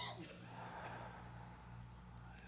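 A group at a spiritual center draws a breath in together, a soft, quiet collective inhale over a low steady room hum.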